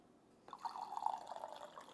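Cold brew coffee pours in a thin, steady trickling stream from a leaking box off a table edge, close and fairly quiet, starting abruptly after a moment of near silence.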